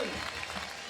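A crowd at a skateboard park contest cheers and claps in a dense, sustained roar, with a commentator's voice running over the top.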